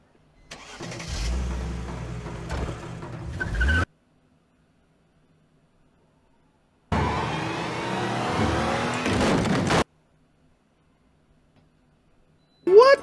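A car from the TV series Lost running over a man, heard as a loud engine burst rumbling for about three seconds, then silence, then a second harsh roaring, screeching burst of similar length, with a brief sharp noise at the end.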